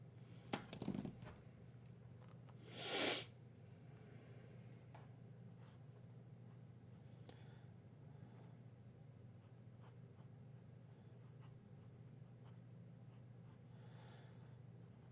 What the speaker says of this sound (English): let me write this down.